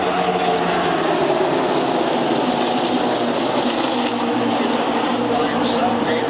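NASCAR stock cars race in a tight pack at Talladega during the 2014 Aaron's 499, a loud, continuous roar of many engines droning close by for the whole stretch, with a commentator's voice faintly mixed in.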